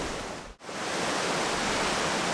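A distant waterfall, one of two main falls, roars as a steady, even wash of rushing water. The sound dips for a moment, then carries on unbroken.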